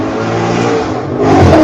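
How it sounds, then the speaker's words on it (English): A car, roughly a 2018 Mustang, revs hard as it comes up a highway, the engine note steady and close before swelling louder near the end, with no voices. "That looked like about a 2018 Mustang that just come up the highway."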